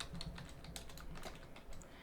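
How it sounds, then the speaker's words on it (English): Rapid keystrokes on a computer keyboard, a steady run of light clicking taps close by with no talking. "Let me see if I'm typing this properly."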